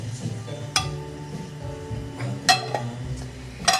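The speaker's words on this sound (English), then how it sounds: "grab your spoon, stir it in, break it up" A spoon stirs tuna, giving a few scattered, close clinks against a dish over a soft background hum, with no one speaking.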